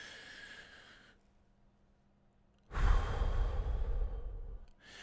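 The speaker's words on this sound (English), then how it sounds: "We're going to take a deep breath." A slow deep breath drawn in during a guided relaxation exercise, a soft airy inhale fading into quiet, then a fuller, louder exhale with a sighing rush of air, close and alone.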